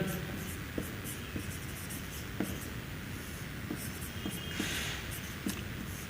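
Chalk or marker scratching across a board in a classroom lesson, a steady run of soft strokes and taps with brief pauses, faint and close with no talking over it.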